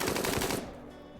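Rapid burst of gunfire from a RimWorld firefight in a tomb world, dense clattering shots running together for about half a second before cutting off into a low lingering hum.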